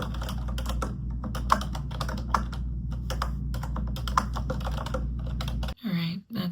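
Rapid, steady keystrokes on a computer keyboard while someone writes a document. The typing is close and continuous over a low hum and stops abruptly near the end.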